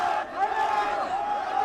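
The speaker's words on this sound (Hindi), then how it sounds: "राष्ट्रपति भवन के बाहर श्रीलंका के नागरिकों की भीड़ है और लोगों में गुस्सा है।" An angry crowd of citizens gathers outside Sri Lanka's presidential palace in Colombo, a dense, continuous roar of many raised voices with shouting swelling and fading, heard at moderate distance.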